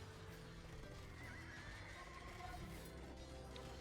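Horse neighing and hooves in a strategy video game tournament match, a faint whinny over a steady low wash of game noise and scattered clip-clop, quiet and distant without talk.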